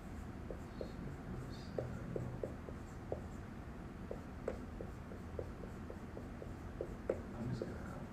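A pen scratching on paper, a quick series of faint, dry ticks and strokes close by, quiet and fairly even, with a little soft background noise.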